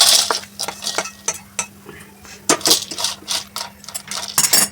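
Roasted mango seeds clatter into a dish, a string of sharp clinks and rattling taps in irregular bursts, close and fairly loud over a low steady hum.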